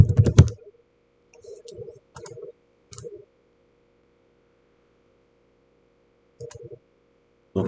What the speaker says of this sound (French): Moi je vais taper shell exploit.